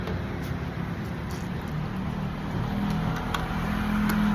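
Cars roll past tall condominium buildings in a wealthy residential area, a steady low traffic hum with one vehicle swelling nearer toward the end.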